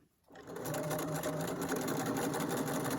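A sewing machine stitches fabric at a 1/4 inch seam allowance, starting after a brief quiet moment and then running in a steady, continuous hum with a fast rhythmic needle chatter, close and loud throughout.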